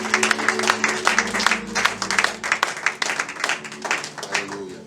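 A church congregation at a full gospel service in Togo applauds vigorously, with rapid continuous clapping and some voices mixed in.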